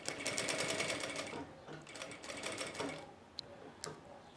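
A domestic sewing machine runs a seam along the very edge of fabric for a Kipling-style lunch bag, a steady whirring stitch that slows and stops partway through, followed by a couple of small clicks.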